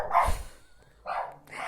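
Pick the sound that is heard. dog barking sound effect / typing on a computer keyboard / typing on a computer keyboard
dog barking sound effect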